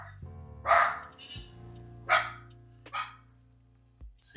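A puppy named Abby lets out three or four sharp, high barks at irregular intervals, near and moderately loud over a faint steady hum.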